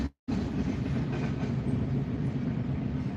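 A CSX freight train carrying containers rolls past with a steady, loud rumble and rhythmic clickety-clack of wheels over rail joints, continuous after a brief cut at the start.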